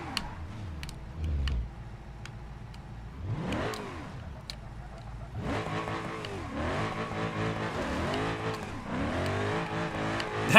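Car crash in the driving game BeamNG.drive: engine revs and tire noise, then a burst of impact clatter before the engine roars on, loud and close with rapid pitch sweeps.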